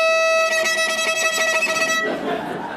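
A violin's E string, bowed in a short viola talk, rings as one bright sustained note for about two seconds before giving way to soft noise.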